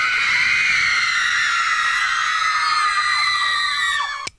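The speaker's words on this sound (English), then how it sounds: "I got a screaming machine right here" A screaming machine plays back a dense wall of teenage audience screams, loud and continuous, then cuts off abruptly with a sharp click near the end.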